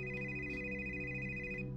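A telephone rings indoors with a steady electronic ringtone, a sustained tonal chime over a low hum, holding for nearly two seconds before cutting off.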